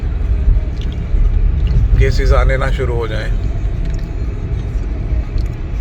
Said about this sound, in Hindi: देखिए आप सुबह सुबह कितना ट्रैफिक हो गया